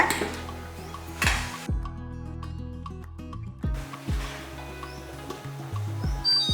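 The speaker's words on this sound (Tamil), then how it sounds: "இந்த ரசப்பொடியை நல்லா மிக்ஸ் பண்ணிடுங்க" Metal utensils clink and scrape against a pot while rasam spice powder is stirred in, several sharp knocks with a steady scraping stir in between; no voices.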